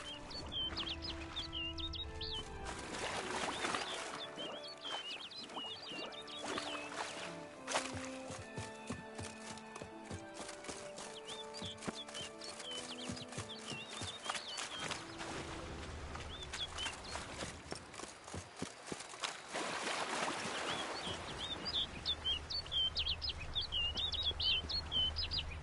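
Bird calls from the Witcher 3 video game: scattered high chirps and tweets over a dense, continuous bed of game music and ambience, with no voices.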